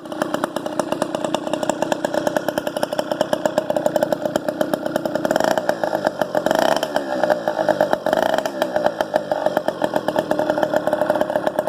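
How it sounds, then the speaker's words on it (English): A four-stroke engine on a name-brand motorized bicycle frame idles steadily on its first run, a close, continuous buzzing chug with a slight fluttering rise in the middle, heard alone. "That was the first idle of the bike."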